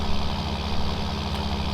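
A tractor engine labouring up a hill in Farming Simulator 19, a loud, steady low-pitched drone with a throbbing idle-like rumble that holds throughout, with no talking.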